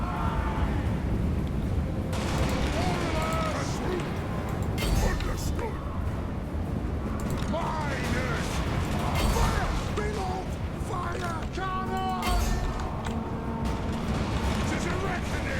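Dwarf army gunfire and artillery pounding orcs in Total War: Warhammer, dense rolling booms and crackling shots layered with battle clatter, continuous and loud, with a voice talking over parts of it.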